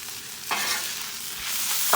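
Eggs stirred into ramen noodles frying in a pan for hot Thai chicken noodles, a steady sizzle with a few scraping stirs close by, no talk.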